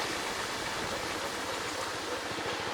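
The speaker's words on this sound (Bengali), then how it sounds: "এই টিউবওয়েলটা কি জল, হ্যাঁ জল পড়ে মনে হয়।" Water pours steadily from a village tube well, a continuous gushing splash that stays even and moderately loud throughout, with no voices.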